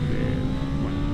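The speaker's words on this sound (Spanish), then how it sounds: "chilla el motor y suena que es una barbaridad lo bien que suena este propulsor con el sistema de escape que lleva instalado" A 2025 BMW M1000R motorcycle engine screams loud and close through its fitted exhaust, a dense, sustained high-revving wail with a racing edge and no speech over it.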